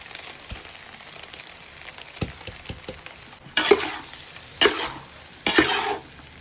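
Egg fried rice being stir-fried in a pan, restaurant style, with quiet scraping and stirring for the first few seconds, then three louder bursts of sizzle as cooked rice goes in and gets tossed. No talk.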